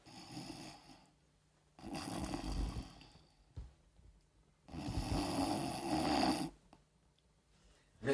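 A voice actor imitates snoring for an animated film, producing two long, loud snores separated by quiet pauses, each a rough, rattling breath with no other talk.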